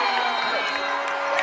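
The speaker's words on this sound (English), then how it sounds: "the crowd at the King Center lights it up" A basketball crowd at the King Center cheering after a three-pointer at a men's college game, a dense sustained roar of voices and whoops filling the whole moment.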